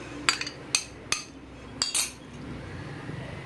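Water-soaked bread slices go into a mixer grinder jar, giving several sharp, close clinks and knocks of the jar in quick bursts before a quieter stretch.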